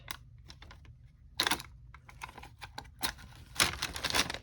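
A handheld paper punch clicks through a paper junk journal bag, cutting a small notch; a few sharp, close snaps and crunches stand out over light handling rustle, with two louder bursts among quieter taps.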